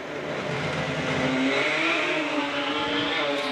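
Drag racing car running down the strip at a Brisbane jamboree, not performing at its best: a loud, continuous engine roar with rising, shifting pitch as it accelerates away, sustained throughout without speech.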